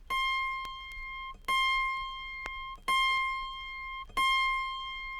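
An autoharp's A sharp string in the higher octave is plucked four times at even intervals, each bright ringing tone sustaining and fading before the next, close and clear with no talking.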